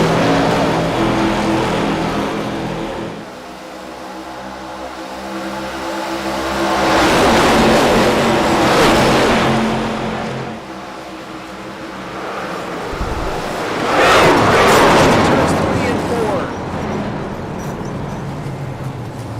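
ARCA Series race cars roaring around Atlanta's track, loud and continuous, with engine notes swelling as packs pass by and fading between, no talk.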